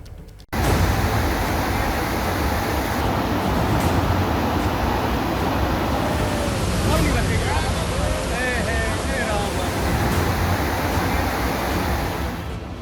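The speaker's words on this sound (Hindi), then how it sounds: "नदी की तेज धार सब कुछ बहा ले जाने पर आमदा है।" Swollen Sukhrau river in flood at Kotdwar, Uttarakhand, a loud, steady roaring rush of water that barely varies, with wind buffeting the microphone and faint voices at moments.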